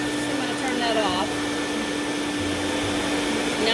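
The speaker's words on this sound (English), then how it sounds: "Now I'm just going to vacuum it out" A vacuum cleaner runs steadily inside a car during detailing, a constant close broadband whir with a fixed tone through the whole stretch, with faint speech in the background.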